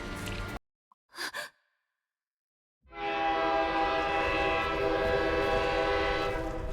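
A train in the video game GFL 2: after a brief sigh-like breath and silence, a loud sustained horn-like whistle with rich rumbling tones swells in and holds steadily to the end, with no speech.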